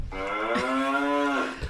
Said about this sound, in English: So you all can see the happy cows.